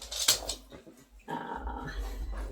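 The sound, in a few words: dog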